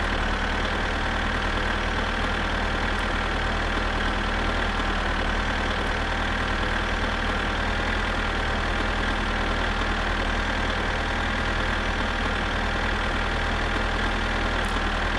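A tractor engine in the video game My Summer Car runs continuously at a steady, rough idle, loud and close with a constant drone and no pauses or talk.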